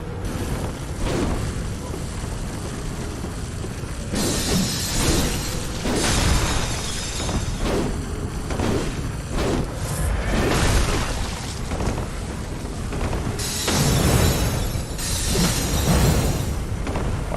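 Blows strike and glance off slug-like enemies in the video game Bloodborne, giving repeated sharp clanking, shattering impacts over dense, loud game sound with no talking.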